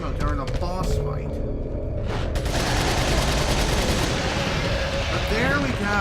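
Gunfire rings out during a boss fight in Resident Evil 4 HD on PC, repeated shots swelling into a dense loud barrage after a quieter start, with a voice talking over the action.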